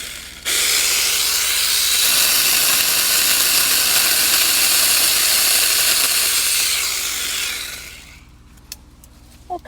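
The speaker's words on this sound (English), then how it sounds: "And the air conditioner just came on" A home air conditioner kicks on outdoors beside a garden, giving a steady, loud broadband hiss and whoosh that runs for several seconds before tapering off, with faint clicks afterward.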